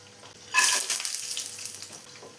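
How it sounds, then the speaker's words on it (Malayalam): Cashew nuts dropped into hot ghee in a pan break into a loud, close sizzle that flares suddenly, then settles into steady frying crackle with faint stirring. "ഇപ്പോൾ ഒരു പാൻ വെച്ച് 2 ടേബിൾ സ്പൂൺ ഗീ ഒഴിച്ച് കൊടുത്തിട്ടുണ്ട്. അതിലോട്ട് ആദ്യം നമുക്ക് അണ്ടിപ്പരിപ്പ് ഇട്ട് കൊടുക്കാം."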